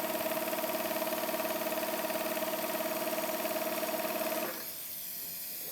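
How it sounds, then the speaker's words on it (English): A sewing machine stitches a straight hem in fabric with a fast, even, steady mechanical whir that stops abruptly near the end, leaving faint background hiss. "I will stitch a little bit more to see whether a longer distance will give me the same result."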